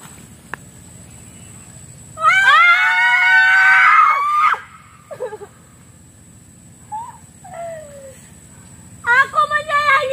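People screaming in loud, high, wavering bursts, one long scream followed by shorter cries and a final burst of shrieks, with quiet gaps between.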